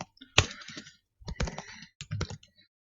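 Bursts of clicky keystrokes on a computer keyboard, fairly close, coming in three short clusters separated by brief pauses.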